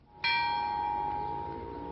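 A church bell tolls the Angelus, one strong clear strike with a bright ringing tone that then hums on and slowly fades. The ring rises over a quiet background and no voices are heard.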